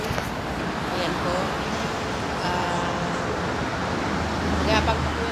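Steady highway traffic rumbles and hisses continuously with a broadband wash of passing vehicles, loud and near, under a voice talking.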